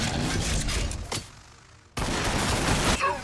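Ork units open fire in a Warhammer 40,000 battle game against Blood Angels: dense bursts of rapid gunfire, a short lull, then a second loud volley.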